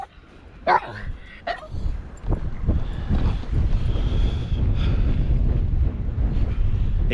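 Gusts of cold coastal wind buffet a microphone during sea fishing on the Humber, a rough, low rumble that grows and stays constant, with a dog barking and yelping sharply near the start.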